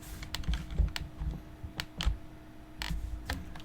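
Rapid clicking of keys on a computer keyboard as a chat command is entered in Star Wars Galaxies, uneven taps and clacks over a low background hum, close and steady, with no voices.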